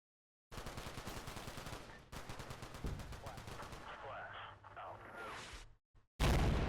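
Rapid machine-gun bursts and scattered rifle fire rattle through a Combat Mission: Black Sea battle, a long sustained string of shots with distant crackle, then a sudden loud blast at the end.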